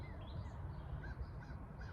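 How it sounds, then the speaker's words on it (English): A crow caws several times at a distance over a low steady outdoor hum, the calls faint and spaced about half a second apart, with no talking. "Oh my god, there's a crow."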